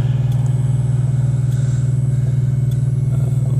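Steady, loud engine drone and road rumble heard from inside an RV cruising on a highway at 70 miles per hour, with a constant low hum and faint whooshes of passing trucks.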